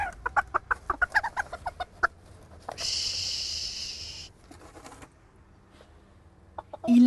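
Four chickens in a henhouse cluck in a quick rhythmic series, followed by a longer hen call, with a few scattered clucks and rustles after it, close and without talk.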